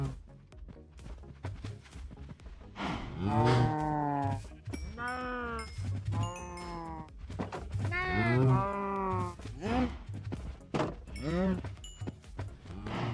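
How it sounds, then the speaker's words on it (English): Cattle lowing in the blocky survival game Minecraft, several long drawn-out moos close by in steady succession, each swelling then trailing off, with faint game ambience underneath and no talk. "There's a couple cows here."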